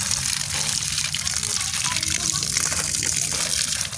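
Water pouring over a newly potted bonsai cutting set in sand, a steady close splashing gush that runs the whole time, with a voice faintly in the background.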